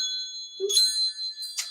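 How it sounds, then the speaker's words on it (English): Small metal wind chimes ringing in light tinkling clusters, with a softer low knock partway through, clear and close with no talking. "Let's call in spirit with a little bit of wind chime time."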